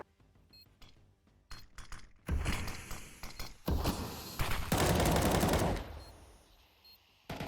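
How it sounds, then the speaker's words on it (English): Gunfire in Counter-Strike on the Ancient map, scattered single shots at first, then a dense loud burst of rapid fire in the middle before tapering off, with no talk. "Puts a few shots out."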